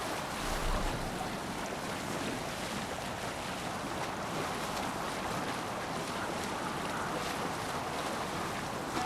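Boat rowing out onto the open sea in Assassin's Creed Valhalla, heard as a steady, unbroken wash of waves and wind noise that stays at an even level throughout, with no voices.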